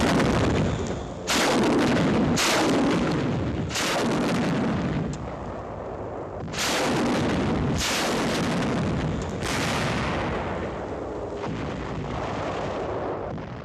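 Naval guns pound a shore during a 1945 World War II bombardment, six heavy booming blasts landing at irregular intervals, each one rolling into a long, fading rumble.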